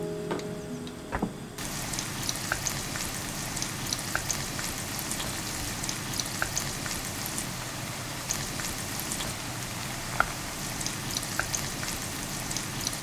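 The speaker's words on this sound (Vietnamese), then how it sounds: "Mình cho dầu vào chảo nhiều một chút, khoảng nửa chén nha các bạn. Cho hành vào nè. Đảo đều mình phi lên ha." Onions frying in a generous pour of oil in a pan, a steady dense sizzle like heavy rain with occasional sharp pops and faint scraping from stirring, close and continuous without speech.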